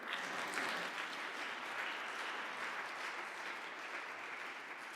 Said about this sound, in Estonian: Plaksutame Gustavile.